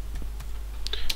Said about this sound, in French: je tape une ligne